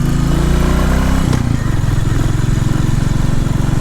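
A 350 motorcycle engine runs loud and close, a thick, throbbing mechanical drone with a brief rise in revs before settling back into a steady pulsing rumble, no voices over it.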